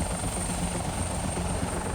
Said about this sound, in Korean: 엄청난 굉음을 내며 도심을 가로지르는 닥터 헬기.